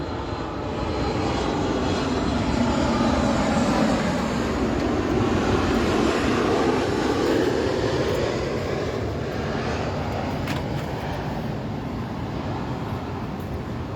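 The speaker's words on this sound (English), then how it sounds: "Every minute a plane flying over." An airplane passes overhead with a broad, loud engine roar that swells and holds steadily for over ten seconds before slowly easing, with no voices over it.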